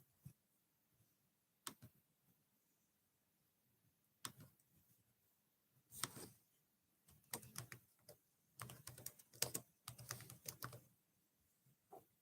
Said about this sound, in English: I'm trying to get the poll typed up.